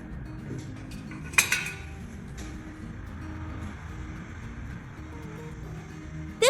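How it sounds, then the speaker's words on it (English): A pot set down on a gas stove by a monkey, a single sharp metallic clink with a brief rattle against a quiet room background. "Then she carefully placed the pot on the gas stove."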